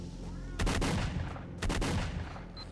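Gunfire in S.T.A.L.K.E.R.: Shadow of Chernobyl: two sharp bursts of loud shots, each a quick cluster of cracks, about a second apart over a steady ambient background.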